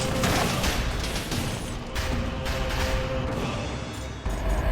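Dense, continuous barrage of rockets firing and exploding in the Dead Cells video game, loud and chaotic with rapid overlapping blasts throughout.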